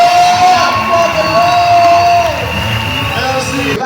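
A church workshop crowd cheers and acclaims together, a loud sustained wash of voices with whoops that fades slightly toward the end.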